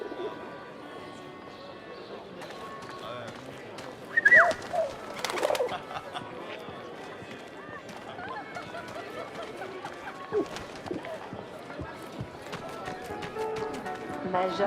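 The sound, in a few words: pigeons cooing and fluttering in the video game 11-11 Memories Retold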